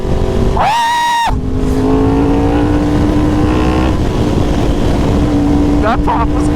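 Yamaha R1 sport bike fitted with a KO exhaust, revving loudly in a tunnel with a sharp whine, a sustained engine drone and a pop near the end, while people talk over it.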